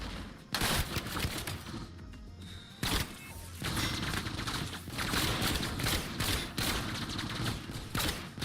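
Gunfire rattles in the video game Arcadia, loud and dense with sustained automatic bursts and sharp individual shots nearly filling the whole stretch, broken by a couple of short lulls.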